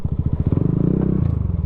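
A Yamaha Aerox V3 scooter idles close by, its engine putting out a loud, steady throbbing pulse that rises slightly in pitch partway through.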